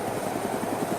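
A helicopter flies in the video game ArmA II Day Z, a steady rotor chop and engine drone, loud and continuous, with no talking.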